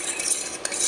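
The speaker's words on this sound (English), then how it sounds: "Give that a really good stir" Chicken alfredo mixture with chicken being stirred in a pot, a steady scraping swirl with a light clink of utensil against metal, close and continuous with no talking.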